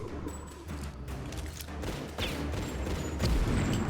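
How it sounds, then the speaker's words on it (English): Muffled shotgun and pistol fire in a Tomb Raider level-editor game, a dense run of overlapping booms and thuds under steady game ambience, with no clear separate shots. "I do like to do one shot for the shotgun and then finish them off with the pistols"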